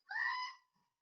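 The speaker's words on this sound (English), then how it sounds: "I would be remiss if I didn't bring out some screaming goat to get people's attention" A screaming goat sound effect: a single short, nasal bleating scream, fairly faint and alone, fading out with nothing after it.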